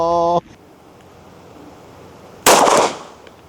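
A single loud, sharp pistol shot rings out near the microphone with a brief tail, after a short tonal beep at the start and quiet background in between; the pistol carries an Aimwin PN3 red dot sight.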